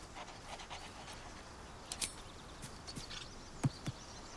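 A dog in Baldur's Gate 3, holding a well-chewed ball in his mouth, pants softly with quick, faint rhythmic breaths, while a few sharp clicks and taps punctuate the quiet.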